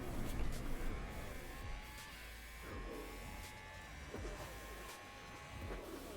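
An F1 race car overtaking in F1 Manager 22, with engine whine and passing cars sweeping by at moderate distance, a few rising and falling tones and faint background clatter, fairly quiet throughout.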